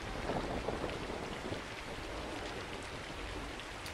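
A rainstorm plays as a soft, continuous hiss of falling rain with a dense patter, steady and fairly quiet, with no voices.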